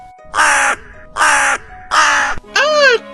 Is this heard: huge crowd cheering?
no